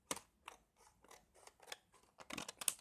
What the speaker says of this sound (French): on va découper nos triangles